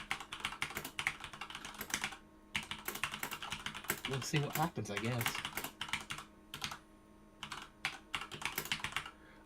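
Rapid clicking of a computer keyboard being typed on up close, in quick irregular bursts with short pauses, while a person talks briefly over the keys.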